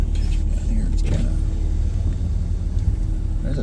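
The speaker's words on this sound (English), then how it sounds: "There's a vehicle." On a snowy mountain highway, a car rumbles past in a steady, close, loud drone of engine and road noise, with a slight swell near the one-second mark and no talk over it.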